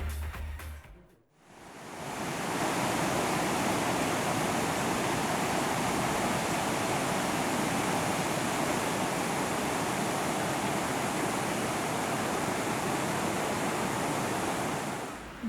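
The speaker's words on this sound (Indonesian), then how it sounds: "Ada bebatuan yang besar dan sungai yang mengalir dengan indahnya" River water rushing steadily among large boulders, a broad, continuous roar of flowing water close by, holding constant after a brief quiet moment at the start.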